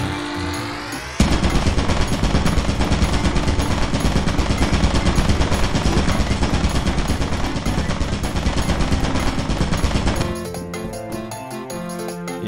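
Turret in Lethal Company firing a long sustained burst of rapid automatic shots, loud and relentless for about nine seconds before cutting off abruptly.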